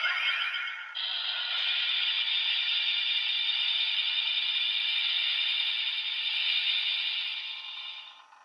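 A DX Blazar Brace toy plays its standby effect, a bright, continuous electronic whirring tone that holds steady for several seconds before fading out, close and loud with no voices.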